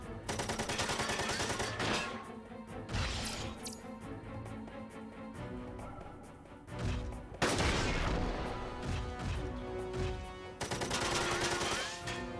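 Mechs in Front Mission 4 unleash rapid gunfire, dense bursts of crackling machine-gun shots repeating in clusters over about twelve seconds, with brief lulls between volleys and a sharp louder burst midway.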